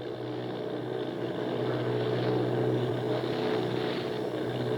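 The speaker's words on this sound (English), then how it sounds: "He's in command of 8 bombers on their way to attack the Martians as they head toward New York" Eight bomber planes of an army squadron fly over New Jersey in a 1938 War of the Worlds radio drama, a steady droning engine roar that stays loud and unbroken throughout, with no voices over it.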